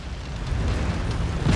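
A destroyed target blows up in the mech combat game MechWarrior 5 Mercenaries, a loud, sustained rumbling explosion with a heavy low roar that swells and holds, no voices over it.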